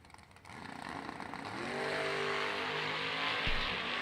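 Two drag racing cars launching side by side in wheel-standing starts at a vintage racing event, engines rising from idle into a loud, sustained roar that swells and holds, heard close without talk.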